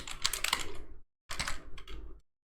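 Fingers typing on a computer keyboard while entering text in MS Word, two short close bursts of quick clicking keystrokes separated by a brief silence.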